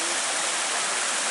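River water flows in a steady, full rush near a village fishing spot, a continuous broadband roar with no pauses.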